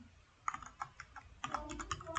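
Soft keystrokes on a computer keyboard tap out a file name in short, irregular bursts, quiet and close, with a small cluster of faster presses near the end and no voices.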